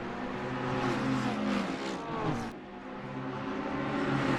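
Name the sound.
race cars starting a race at Nürburgring, Assetto Corsa Competizione game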